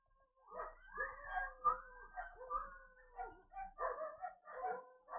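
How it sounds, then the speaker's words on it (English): Several dogs bark repeatedly in a rapid, overlapping series of yelps and woofs, fairly close and lively, with some drawn-out whining tones mixed in and no talking. "apologies again for the dogs barking"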